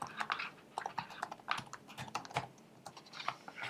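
Rapid keystrokes on a computer keyboard as a web address is typed, a close, irregular clatter of light clicks with short pauses, no talking.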